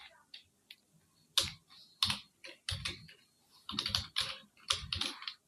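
Fingers type on a computer keyboard while entering text in Adobe Premiere Pro, producing close, crisp clusters of key clicks in irregular bursts with short pauses between them.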